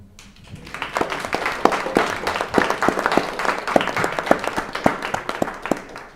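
An audience at a talk in a library bursts into steady, dense applause, many hands clapping close together for several seconds without pause.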